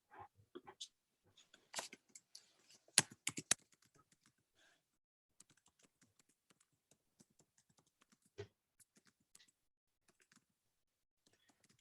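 Keys tapped in short irregular bursts, close and quiet, with long gaps of near silence between clusters; no voices, as a person writes notes during a philosophy consultation.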